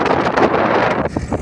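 Strong wind at the seashore buffets the microphone in loud, continuous roaring gusts that rise and fall, heard alone.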